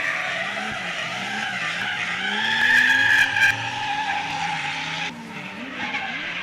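Drift cars at an F8 Drift Challenge event by the Australian Drift Club skid through a zone with a sustained, loud tire squeal over roaring engines, rising to a sharp peak midway before the noise drops briefly and picks up again.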